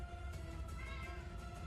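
A cat gives a drawn-out, fairly quiet meow over a low background rumble, with no voices.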